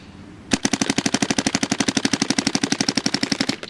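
A DYE DSR+ paintball marker fires a long, steady rapid burst of roughly forty evenly spaced shots. The shots are loud and close, with no one talking.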